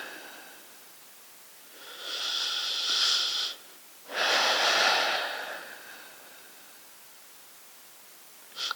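Slow, deep breaths during a yoga forward bend, a long airy inhale followed by a louder, breathy exhale, close and alone in a quiet room.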